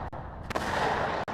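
Artillery fire in the Cold War strategy game WARNO, a dense burst of heavy booms and rumbling gunfire sustained at steady loudness for just over a second, with a sharp transient near the start and a brief cutoff at the end.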